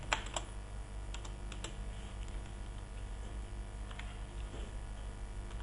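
Irregular clicks of a computer keyboard as text is typed into a Word 2007 document header, the keystrokes fairly quiet and close, clustered in short bursts with no talking.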